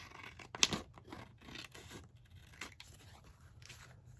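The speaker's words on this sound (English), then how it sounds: "Just trim this one off down here, and then just trim off on the edge." Scissors trimming paper bookpage pockets, a few quiet snips and scrapes close by with soft rustling between cuts.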